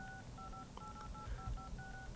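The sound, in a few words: iPhone dial pad tones, reduced volume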